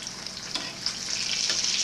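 Breaded pork chops fry in a pan on a stovetop set to medium heat, giving a steady, close sizzle and crackle that builds slightly louder toward the end, with no talking.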